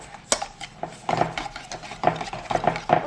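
Eggs and sugar being beaten together in a bowl for madeleines: rhythmic scraping strokes with light metallic clinks against the bowl, close and continuous, with no talk.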